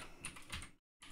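A quick burst of keystrokes on a computer keyboard while entering a Linux Mint terminal command, a few close soft clicks that stop abruptly into silence before resuming briefly.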